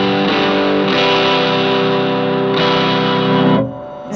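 Electric guitar played through a bright distortion pedal with the tone knob fully open, producing loud, sustained, buzzing chords that ring out in long held notes with a brief dip near the end.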